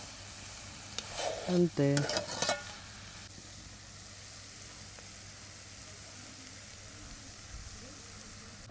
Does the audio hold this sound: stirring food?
yes